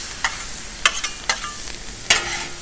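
Food frying on a 36-inch Blackstone griddle is stirred with a spatula: a soft, steady sizzle broken by several sharp metal scrapes and clicks at irregular intervals, close by, with no talking.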